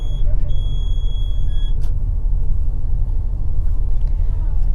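Low, steady engine rumble of a city bus driving, a continuous heavy drone with road noise and faint higher whine throughout, no pauses.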